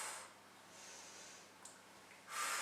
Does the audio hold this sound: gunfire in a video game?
no